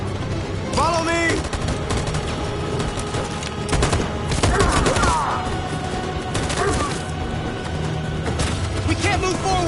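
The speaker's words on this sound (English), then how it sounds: "That machine gun is taking down everything that moves!" Rapid bursts of machine gun fire from the video game Detroit: Become Human, dense and continuous over a battle din with shouting voices and scattered heavy thuds throughout.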